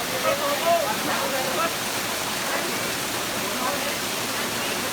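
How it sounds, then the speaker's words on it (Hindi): Bee Falls in Pachmarhi plunges from a height, producing a steady, moderately loud rushing roar of falling water that holds constant throughout with no voices. "ये है बी वाटरफॉल। ये भी कितनी ऊंचाई से गिर रही है।"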